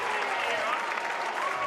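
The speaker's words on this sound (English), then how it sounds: "the first life this Arizona offense has shown has brought to life this crowd here in Tucson" Crowd at a college baseball elimination game in Tucson, Arizona, breaking into steady, dense cheering and applause that fills the whole short stretch at a constant loud level.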